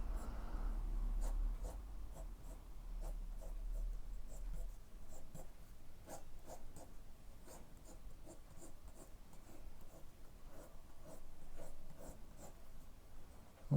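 A pencil sketches manga hair on paper in long runs of soft, scratchy strokes, steady and close, with faint rubbing and a low hum early on and no talk.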